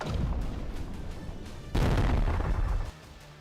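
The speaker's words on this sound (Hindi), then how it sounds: "तोपखानों से दनादन गोली दागे जा रहे हैं।" Artillery fires on the front line in eastern Ukraine's Dnipropetrovsk region: a loud, heavy boom bursts out midway over a steady rumbling background, then cuts off into quieter ambience.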